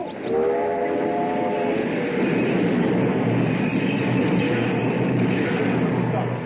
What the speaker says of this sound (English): Caleb, stop the train.